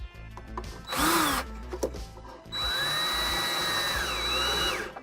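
A 1/4-inch power nut driver runs in two bursts while a nut secures a cable clamp on a Stern pinball cabinet. A short whine comes first, then a longer, steady motor drone rises and falls in pitch, close and loud, with no talking.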